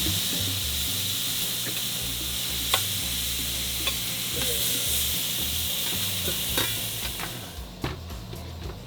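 Herby pork chops simmer and fry in a tomato cream sauce at a campground, a steady close sizzle with occasional stirring clicks and scrapes, no talking.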